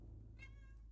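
A cat gives a single faint, short meow over a steady low hum in a quiet room.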